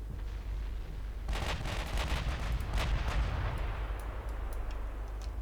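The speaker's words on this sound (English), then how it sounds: "I want to see it fire all guns aimed straight ahead" A warship in a naval video game set in the Norwegian campaign of 1947 fires all its guns straight ahead: a dense rumble of booming reports over constant low engine drone, with scattered sharper cracks trailing off.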